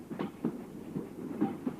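Rhythmic clickety-clack of a train running on rails, soft repeated knocks about every quarter second over a low rumble, heard from inside a carriage.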